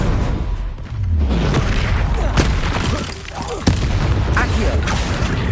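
The Bombarda spell explodes during a fight in Hogwarts Legacy, with repeated heavy booms and sharp blasts bursting over a dense, loud rumble of combat noise and a voice cutting in.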